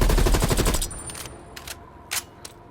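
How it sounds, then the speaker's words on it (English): Rapid automatic gunfire fired from the hip in Call of Duty: Black Ops Cold War, a loud sustained burst that cuts off abruptly, followed by a few faint clicks and thuds in near quiet. "And you can also fire from the hip."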